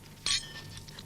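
Glasses clink in a Christmas toast at a family gathering, a single bright near chime ringing briefly over a quiet room.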